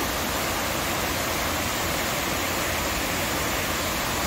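A waterfall roars as a dense, unbroken rush of water, loud and constant, with nothing else audible over it.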